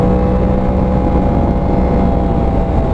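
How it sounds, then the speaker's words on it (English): A 2018 Yamaha R1 motorcycle engine blips up sharply on a downshift through its auto-blipper, loud and close over a steady engine roar with wind rush. "Love the auto blipper."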